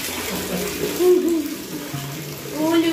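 Water is poured over a small child's head during a bath, a close splashing gush with a brief high voiced sound mixed in.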